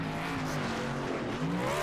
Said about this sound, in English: Burnouts in the grass, well deserved.